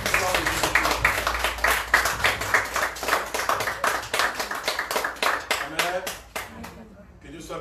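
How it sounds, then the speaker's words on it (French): A church congregation claps together in a steady, rhythmic beat to acclaim God, with voices mixed in. The clapping is loud and close, then fades out near the end. "Est-ce qu'on peut acclamer notre Dieu encore ce matin?"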